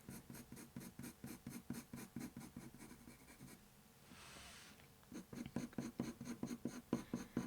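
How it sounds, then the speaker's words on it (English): A pencil lays down soft, light-pressure strokes, building texture in a steady, close scratching rhythm of repeated short lines, with a brief pause partway through before the strokes resume. "you just want to create nice soft lines and just start to build that texture"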